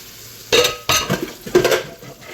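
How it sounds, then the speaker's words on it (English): Dishes being washed in a sink under running water, with clattering bursts of pots and cutlery in three loud clusters over a faint background, and no talk. "Me is washing dishes."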